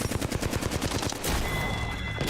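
Rapid, loud bursts of automatic gunfire in the Apex Legends shooter game, several quick volleys in a row followed by a denser crackling stretch, with no talk over it.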